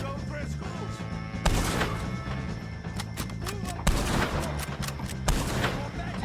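Rapid gunfire from a shootout with O'Driscoll gang members in Red Dead Redemption 2, loud overlapping shots and cracks in bursts over a busy game soundscape with talk mixed in.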